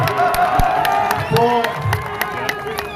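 At a political rally, a crowd cheers and claps in scattered bursts, with whoops and sharp hand claps mixed under prominent voices talking nearby.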